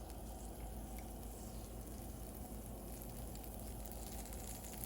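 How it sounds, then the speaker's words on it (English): Butter melts over medium heat on a pancake griddle, giving a steady, faint, even sizzle that holds unchanged with no talk. "I'm going to put a tablespoon of butter, let that melt, spread it around on the griddle"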